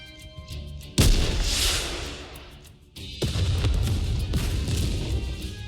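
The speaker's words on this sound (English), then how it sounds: "a shell flies from the rocket launcher." Video game rocket launcher in Nikke fires a shell, then a heavy explosion roars over a snowfield. Two loud booming blasts about two seconds apart, each with a long rumbling tail, and no voices.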